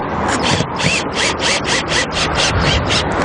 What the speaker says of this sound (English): we're also going to screw it down through the windbrace, lining up again with where the purlin is